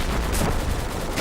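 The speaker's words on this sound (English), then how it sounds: "Backblast clear. Rocket, rocket, rocket." Rocket launcher firing in a military video game, a loud continuous roaring blast with broadband rumble and a brief hiss burst, no talk.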